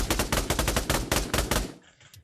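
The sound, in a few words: gunfire in the video game Pavlov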